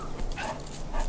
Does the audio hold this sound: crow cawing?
no